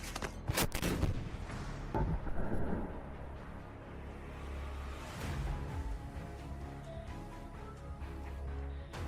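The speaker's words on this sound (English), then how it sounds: "There is a shot." A C-60 57mm cannon fires a fragmentation shell at a tank: a sharp, loud blast that rolls into a long, heavy rumbling echo, with a second boom or impact partway through and sustained low reverberation.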